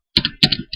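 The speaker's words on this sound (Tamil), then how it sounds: "ஸோ ஃபைல் நேம் வந்து நம்ம டைப் பண்ணிக்கிறோம்" Keys clack on a computer keyboard as a file name is typed, three quick bursts of clicks, close and crisp against silence.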